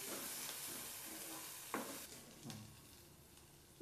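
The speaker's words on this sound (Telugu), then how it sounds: "లో ఫ్లేమ్లో మనం కొంచెం ఈ మిరపకాయలని ఇలా ఆయిల్లో వేపుకోవాల్సి ఉంటుంది." Chillies frying in oil on a low flame for kadai mushroom: a soft, steady sizzle with a few brief stirring clinks, close and quiet.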